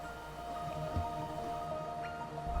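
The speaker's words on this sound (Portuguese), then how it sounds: "Andando nessa cidade é possível ver que essa chuva não vai acabar tão cedo" Steady, soft rain falling through the City of Tears in the video game Hollow Knight, a continuous hiss under a faint layered ambient drone with occasional small drips, no voices.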